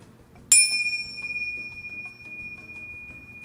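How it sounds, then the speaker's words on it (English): A single bright chime struck once to open a meditation rings out clearly and then sustains with a long, slowly fading tone. "Now, with this chime,"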